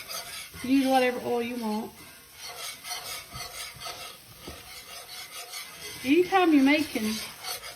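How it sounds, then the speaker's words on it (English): Flour and oil being stirred in a pot for a pot-roast gravy, a spoon rasping and scraping steadily against the pot bottom while someone talks over parts of it. "you want to stir it to where it's not raw tasting, and you want to get it brown"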